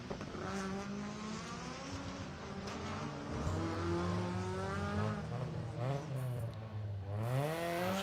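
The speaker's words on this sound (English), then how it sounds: "Peter Lewis in that rear wheel drive Escort" A rear-wheel-drive Ford Escort rally car drives a special stage, its engine revving loudly and climbing through the gears, with pitch swings as it lifts off and accelerates hard again.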